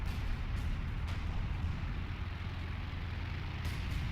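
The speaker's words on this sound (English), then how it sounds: "There's more artillery coming in" Artillery in a WWII strategy game set around Caen: a steady low rumble of distant shelling with a few sharper cracks, fairly faint and continuous, no voices.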